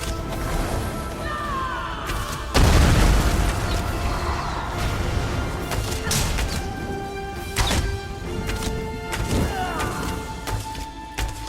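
Flame and fire spells going off in Elder Scrolls Online combat, a sudden heavy whooshing burst followed by a sustained roar of blasts, impacts and ringing magical tones, loud and layered throughout.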